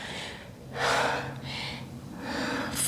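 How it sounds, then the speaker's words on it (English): Deep breaths during a slow strength-and-flexibility yoga session: a quiet inhale, then a long, loud breathy exhale, followed by another softer inhale and a rising exhale. The breathing is close and alone, with no talking. "One more inhale, exhale."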